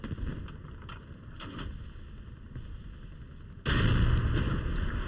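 Tank cannon fire destroying an IS-2 tank in War Thunder, a heavy boom that bursts in near the end and holds a loud rumbling roar, after quieter battle noise and engine hum.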